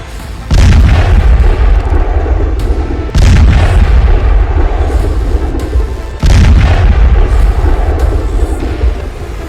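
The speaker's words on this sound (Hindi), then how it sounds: "फिर होता है धमाका।" A rocket fired from a Corsair drone boat at sea sets off three loud, heavy booms, each striking suddenly and rumbling on for a couple of seconds before the next.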